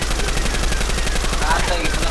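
Rapid, continuous gunfire rattles in dense bursts throughout a firefight in the video game Blood Harvest Apocalypse.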